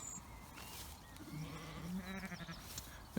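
One-month-old lambs bleat in a field, one wavering cry rising above soft background noise, faint and somewhat distant.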